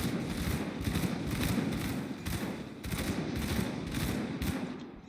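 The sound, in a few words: shotgun firing in the video game Grim Dawn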